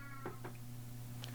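A house cat gives two short meows and then a faint third, close and quiet, over a steady electrical hum with no talking.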